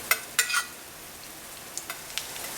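Oil hitting thalipeeth on a hot griddle, a faint steady sizzle with several sharp crackles and pops scattered through, close by, with no talking.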